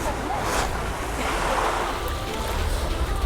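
Sea waves wash steadily onto a red sand beach in Greece, a continuous broad roar of surf with rushes of wind across the microphone and no pauses.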